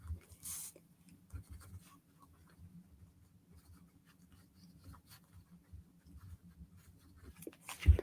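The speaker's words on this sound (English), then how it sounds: "I'm going to write lines." A pen writing lines on paper, heard as faint, sparse scratching strokes in a quiet room, with small bumps and a sharper tap near the end.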